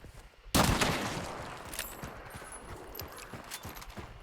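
A rifle in the video game Hunt: Showdown fires one loud, close shot, and a long decaying echo and rattling tail follow it.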